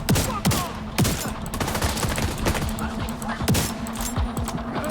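Sustained gunfire in The Division 2, with rapid overlapping shots and bursts crackling steadily throughout, loud and close, with no pauses in the shooting.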